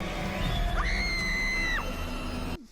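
Woman screaming in a TV episode, one loud, sustained shriek that rises, holds for about a second and then drops away, over a background of noise.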